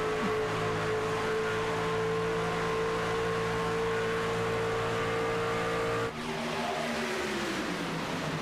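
Race cars at Talladega roar past in a loud, sustained engine drone that drops sharply in pitch as the pack goes by, then continues fading away.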